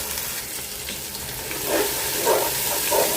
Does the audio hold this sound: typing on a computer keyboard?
no